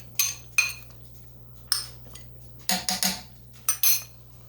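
A metal utensil clinks and scrapes against a cooking pot while breaking up tuna with water for tuna and noodles, in short sharp bursts of separate clatters, close and alone with no talk, over a steady low hum.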